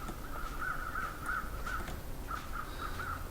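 Crows caw repeatedly in The Long Dark on Timberwolf Mountain, a steady series of harsh calls at a moderate distance over a constant windy, snowy background hum.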